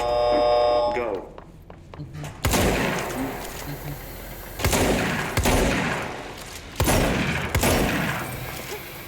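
Rapid gunfire from a Ranger shooting-course video game, loud bursts of shots repeating in waves about every two seconds, with a buzzer-like tone before the firing starts and a voice talking over it.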